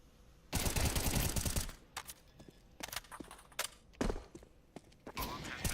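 Gunfire in a competitive shooter match: a long, loud automatic burst, then scattered single shots and short bursts with thuds and footsteps in between. Close and sharp, with no talk.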